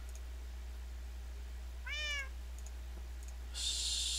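A cat meows in a Minecraft game, one short rising-and-falling call near the middle over a steady low hum, followed by a brief burst of bright hissing noise at the end.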